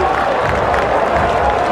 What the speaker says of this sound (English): You listen to this crowd